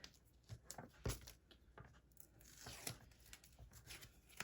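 Tape torn in several quick ripping bursts while assembling a paper flat mail mini album, close and crisp with short pauses between tears.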